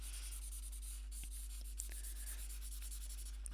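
Copic alcohol markers blended on paper, quiet soft strokes rubbing back and forth, close and faint over a steady low hum, with a few light taps.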